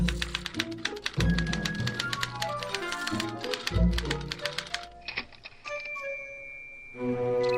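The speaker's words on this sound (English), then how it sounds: "What's this typewriter do again?" Typewriter in Back to the Future: The Game, with rapid, uneven key strikes and clacks over a low hum, followed by a softer chime and steady tone near the end.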